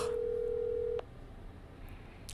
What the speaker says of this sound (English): Ring, ring, ring. Answer the phone.